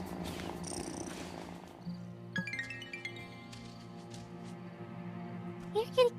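A kitty in the farming game Wylde Flowers purrs steadily over soft game music, low and continuous, with a few brighter chime-like game sounds near the end.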